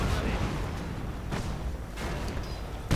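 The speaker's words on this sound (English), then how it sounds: "Two Fireflies, in fact, and another Panther goes kaboom" Tank cannon fire in a World War II video game as a 17-pounder Firefly destroys a Panther, heavy booms and blasts over a rumbling battle din, with voices talking during the clip.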